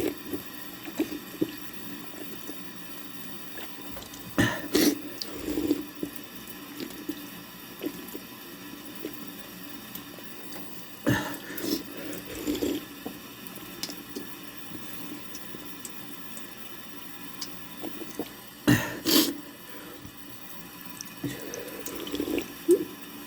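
A tap runs steadily into a sink, with a soft hiss of flowing water throughout and a few louder splashing bursts at irregular intervals, heard alone without talk.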